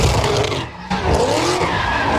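Cars skidding with loud, sustained tire squeal at a Los Angeles street takeover, the screeching broken by a short dip before surging back, close and continuous.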